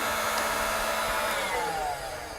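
A heat gun blows with a steady, loud, broadband whoosh that holds for a couple of seconds and eases slightly at the end, warming a hose so a worm clamp can slide on.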